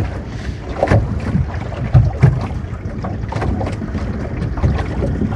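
A ship runs on a single working engine at sea, with a low, rumbling drone partly masked by buffeting wind noise and occasional water thumps.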